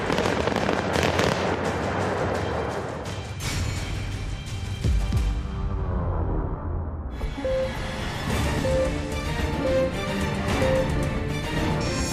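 Blast demolishing North Korean nuclear test tunnels dug into a mountain, a loud crackling roar with bursts and rumbling that fades, then mixed with a musical tone later on.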